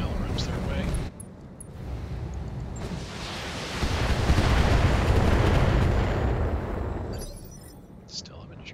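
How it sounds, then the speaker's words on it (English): LRM missile salvos launching in the BattleTech video game, a sustained roaring barrage of rocket fire and explosions that swells over several seconds and then fades, with a voice talking over parts of it. "Let's throw some LRMs their way"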